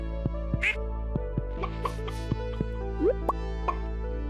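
A duck in the Stardew Valley farming game quacks a few times among soft popping, dripping game sound effects, all light and brief over a continuous hum of background music.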